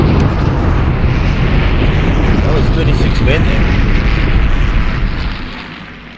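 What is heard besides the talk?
bombardment explosions in the war game Panzer Campaigns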